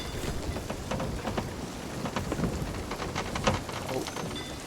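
A storm at sea in a video game brings steady rain with low rumbling thunder, with speech faintly underneath.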